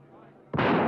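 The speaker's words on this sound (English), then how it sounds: "I'll try firing over their heads." A single loud gunshot bursts out after a stretch of murmuring, then its blast and echo fill the rest of the moment, fired as a warning over the heads of an angry crowd outside an office.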